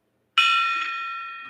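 A single bell strikes once, bright and ringing, then hangs in a long, slowly fading tone with no other sound around it.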